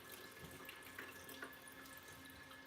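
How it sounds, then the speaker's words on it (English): An aquarium pump running at full speed churns water around the tank, making a continuous rushing, splashing hiss like a running tap, very faint and with no voices. "you can see how well this pump really just kind of pumps the water around"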